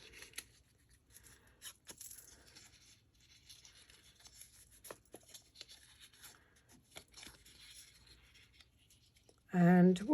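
Scissors snipping and rustling paper while crafting a vintage folio pen holder, faint sparse cuts and handling noises, ending in a louder burst.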